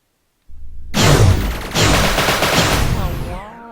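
Spaceship weapons firing in the Endless Sky game: after a brief silence, two rapid bursts of loud, crackling blasts rattle off close up, then trail away into a fading rumble.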